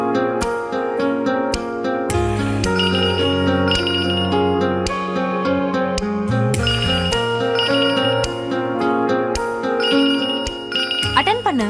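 A phone ringing in a Tamil television drama scene: a bright, repeating melodic ringtone that plays steadily and loudly for several seconds over a low musical background.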